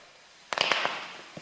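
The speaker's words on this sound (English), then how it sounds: "A little bit of explosion." Powder reacting with water in a classroom science demonstration sets off a small, close burst of sharp pops and crackles that fades within a second, followed by one faint final pop.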